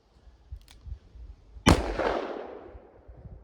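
A single sharp, loud .357 Magnum gunshot with a 170-grain load cracks out, then its rumbling echo decays over about a second, with a faint click just before it.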